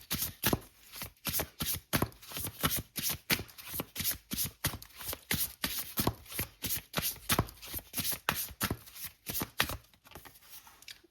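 A tarot card deck being shuffled and cut makes rapid, evenly repeating riffles and flutters, close and alone for about eleven seconds.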